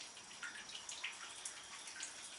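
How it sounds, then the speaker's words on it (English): Water splashes and trickles softly as a fish net is rinsed in an aquarium tank, with light, irregular sloshes and drips and no talk. "I'll give the net a few rinses each time because there's always babies stuck."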